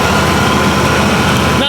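Vortec engine of a GMC Jimmy, not yet warmed up, running steadily close by with a dense continuous rumble, a little change at the very end.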